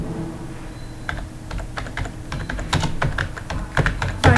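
Code being typed on a computer keyboard, with a run of quick, uneven clicking keystrokes that grows denser and louder toward the end over faint room hiss.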